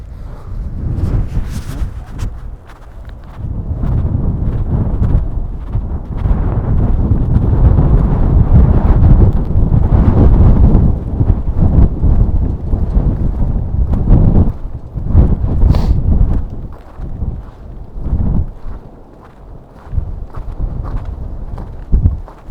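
Gusty wind buffets the microphone outdoors on a walking trail in Golden, Colorado: a loud, low, rumbling roar that surges and eases in uneven waves, with no talking.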